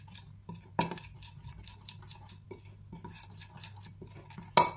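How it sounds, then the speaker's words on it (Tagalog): A spoon scraping and clinking against a bowl while stirring flour batter, with light irregular taps and one sharper clink near the end, quiet and close with no talking. "Haluin daw natin."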